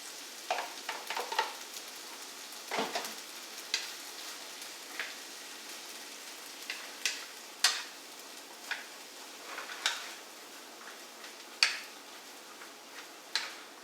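Onions, celery and shallots soften in a pan with a light, steady sizzle, broken by scattered crackles and ticks and a few stirring scrapes, close and fairly quiet, with no one speaking.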